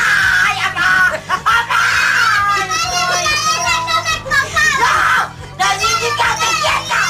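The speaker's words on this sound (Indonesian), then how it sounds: "Saking ketakutannya, sang nenek terus-menerus menggerutu dan terkadang berteriak" Elderly grandmother screaming and wailing in fear on a glass bridge cable ride, high-pitched cries rising and falling continuously over a noisy crowd, with children's voices and laughter mixed in throughout.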